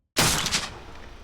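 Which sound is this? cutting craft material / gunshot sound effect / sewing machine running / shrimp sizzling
gunshot sound effect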